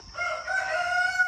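On a mini farm, a rooster crows once, a clear, fairly close cock-a-doodle-doo that rises and holds its drawn-out final note, with no talk over it.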